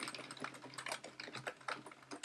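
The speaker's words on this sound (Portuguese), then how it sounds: "Estou digitando, mas ele só vai pegar 4 caracteres" Quick, light clicking of computer keyboard keys as numbers are typed, a rapid irregular patter of keystrokes heard close and fairly quiet with no talking.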